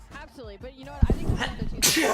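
A single sharp sneeze bursts out from a commentator at an OpTic Texas versus Las Vegas Falcons Call of Duty League match watch party, following close spoken talk and leaving a loud hiss of breath near the end.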